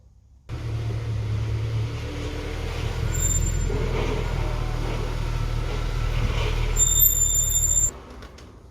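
A Mercedes-AMG C63 being driven, with a steady low engine and road rumble that starts abruptly, holds at moderate level for several seconds with a couple of faint high whines, then drops away.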